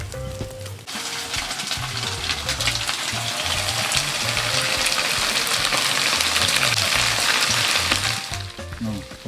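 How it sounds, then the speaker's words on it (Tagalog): Pork belly bacon sizzling loudly on a grill for samgyeopsal, a dense steady crackling hiss that runs nearly the whole time, close and continuous with a low background hum. "Oh, kumusta ang pag-iihaw?"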